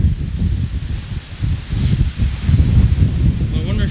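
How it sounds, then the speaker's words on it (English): Steady low wind buffeting at the foot of a lighthouse in Ilwaco, a rough, continuous rumble into the microphone with gusty swells throughout and no clear talk. "A lot of wind up here"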